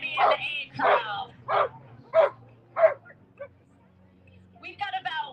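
A dog barks and yips repeatedly in a quick run of five sharp, fairly close barks near a 5K race start corral, over a low crowd murmur, then falls quiet before a voice speaks.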